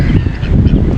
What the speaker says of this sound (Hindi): ये रही भाई बद्दक है, ये रही देखो